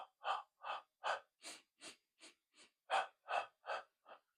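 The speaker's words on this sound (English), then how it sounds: "Breathe in through your nostril 4 times, and breathe out through your mouth 4 times" A person breathes in a steady paced pattern, in through the nostrils and out through the mouth, about a dozen close, even breaths in a regular rhythm with short gaps between them, and no talking.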